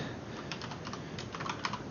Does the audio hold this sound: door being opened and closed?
no